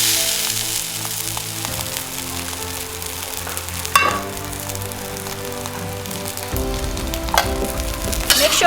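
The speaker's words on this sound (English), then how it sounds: "And in goes the rice." Rice tossed into a hot pan for shrimp fried rice sizzles steadily and loudly up close, with crackling bursts and occasional stirring scrapes as the grains hit the oil.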